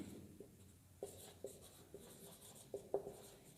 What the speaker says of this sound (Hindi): मैं ऊपर लिख रहा हूँ, आप इसको नीचे की तरफ लिखें